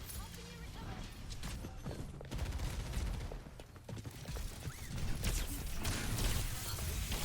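Rapid bursts of gunfire crackle through a competitive shooter video game match at a FACEIT League esports event, with dense clattering shots throughout, loud and steady under excited caster commentary.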